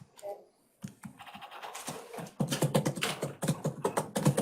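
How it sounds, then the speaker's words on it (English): Computer keyboard typing during a county board of commissioners meeting, a quick run of clicks and taps near the mic, overlapped by ongoing talk in a meeting room. "Let me finish my typing here on the last motion."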